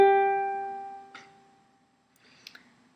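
The G string of a tuned ukulele is plucked once, ringing clearly and fading over about a second, followed by faint handling clicks.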